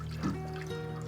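Tap water trickles steadily into a kitchen sink as beef short ribs are rinsed of blood, a soft continuous running stream with a faint hum underneath and no voices.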